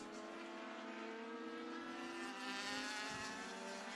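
Legend race car on the New Hampshire Motor Speedway road course, its engine a steady, faint, sustained buzz heard from a distance, without speech.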